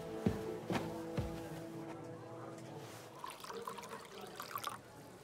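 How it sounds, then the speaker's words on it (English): Red wine poured from a jug into a cup in the medieval game Kingdom Come Deliverance 2: a few soft knocks at the start, then a light liquid trickle and splash for a few seconds, faint and close. "Pour me some of that red"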